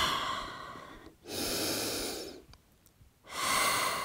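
A deep breath taken during a Pilates mat stretch while sitting back toward the heels: a long audible inhale, a pause, then a slow, steady exhale, close and quiet.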